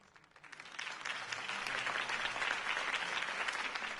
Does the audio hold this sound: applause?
yes